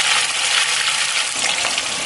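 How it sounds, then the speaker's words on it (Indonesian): Chilies and sambal ingredients fry in hot oil with a loud, steady, dense sizzle that stays close and continuous throughout. "Kalau semua bahan sambal sudah kita siapkan, sekarang kita akan goreng semuanya."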